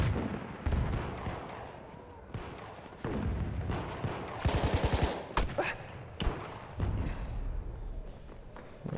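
Gunfire in the first-person shooter Battlefield 1: sharp, heavy shots and thuds scattered across the battlefield, with a rapid rattling automatic burst midway, loud and close against steady combat noise.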